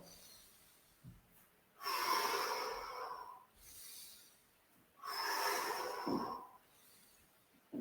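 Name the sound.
breathing in during a breathing exercise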